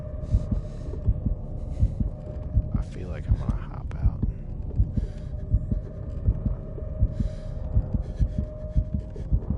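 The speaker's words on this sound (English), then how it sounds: "now my heartbeat is really going" A video game heartbeat thumps in a steady, fast, rhythmic pulse throughout, loud and low, while someone talks quietly over it.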